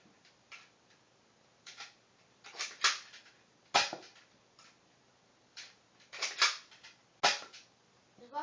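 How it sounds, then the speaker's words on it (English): A Boomco toy dart blaster firing three times, each trigger pull a sharp snapping pop, with softer clicks and rattles of handling and loading between the shots, close and clear with no talk. "to fire, you just pull the trigger, so I'm going to fire 3 times"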